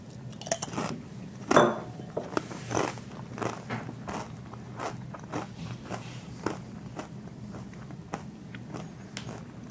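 Crunchy bites of a chip loaded with salsa, several sharp close crunches followed by chewing and light clatter, with no talk.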